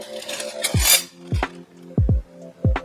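Silver-plate and sterling silverware, some monogrammed, handled and knocked together: several sharp metallic clinks and clatters, close and distinct, with rattling in between and no talk.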